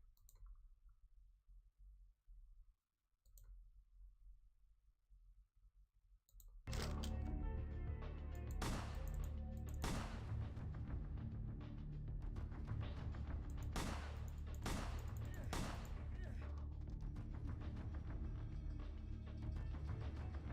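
Gunfire in the video game Vampire: The Masquerade – Bloodlines, a sudden loud burst of repeated sharp shots and impacts after several seconds of near silence, continuing densely with several distinct cracks standing out.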